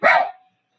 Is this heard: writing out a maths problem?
no